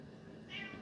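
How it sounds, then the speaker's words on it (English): A pet cat howls over her toy with a short, faint, drawn-out meow that swells briefly near the end against a quiet indoor background. "One of the kitty babies is howling over her toy."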